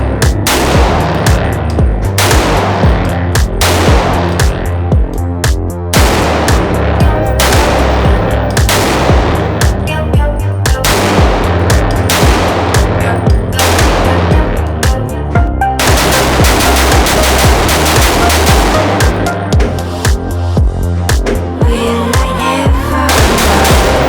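Rapid gunfire from a .30 caliber AR pistol at a shooting range: dense, loud bursts of sharp shots fill the whole stretch, closely spaced and nearly continuous, with brief gaps between strings.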